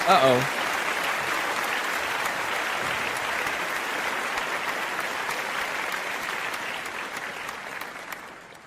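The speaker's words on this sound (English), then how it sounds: "Okay, 2 rounds of applause." Sustained audience applause at a live show, a dense even roar of clapping that holds steady for several seconds and fades slightly at the end, with a brief voice heard at the very start.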